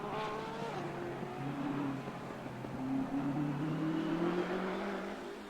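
Race car engine from Assetto Corsa Competizione at Monza, held at a steady drone through a hot lap, pitch rising and falling with gear changes, fairly quiet and continuous with no talk.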